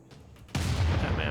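Units firing in a Civilization 6 battle: a sudden loud burst of gunfire and booming artillery erupts after a quiet start and rolls on as a dense, sustained volley.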